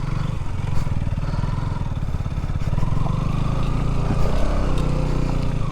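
A motorcycle climbing a rocky, stony hill road in Chikkamagaluru, its engine chugging loudly and steadily up close, with clattering of stones and a rising rev partway through.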